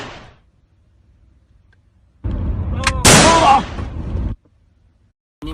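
Pistol fire in a video game: a sudden loud burst of shots with a sharp crack and ringing tail, starting after a near-silent stretch and lasting about two seconds before cutting off abruptly.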